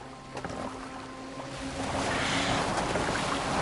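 Boat moving across open water in Assassin's Creed Valhalla, a steady broadband wash of water and wind that swells louder partway through, with faint tonal hum beneath and no talking.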